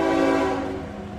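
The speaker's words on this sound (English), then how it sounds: "Train coming by." A train passes by, a loud sustained rumble with a steady tonal drone that gradually fades across a moment.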